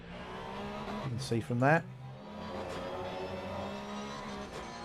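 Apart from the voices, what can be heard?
Porsche race cars cornering in a sim racing video game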